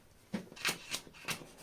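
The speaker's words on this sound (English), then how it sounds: "Last shuffle." A deck of tarot cards is shuffled by hand, giving several quick papery riffles in an uneven rhythm, close and soft, with no talking.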